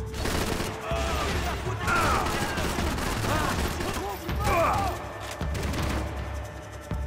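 Gunfire in the video game Max Payne 3, rapid bursts of shots and loud booms packed through a chaotic firefight, with someone talking over parts of it.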